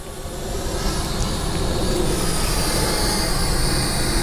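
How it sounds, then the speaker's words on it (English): A JJRC H47 ELFIE+ foldable selfie drone flying: a steady, broad whirring hum that swells in at the start and then stays even and continuous throughout, with no voices. "So now we've got the ELFIE selfie drone, and it is in the air."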